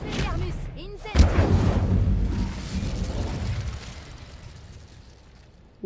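A fire spell blast erupts in a Harry Potter video game, a sudden loud burst about a second in followed by a rumbling, crackling roar that slowly fades, with a voice speaking briefly just before.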